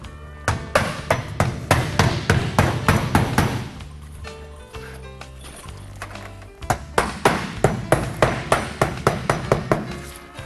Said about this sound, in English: you can take a 7-penny nail or whatever length you need to hit wood and put a nail every so often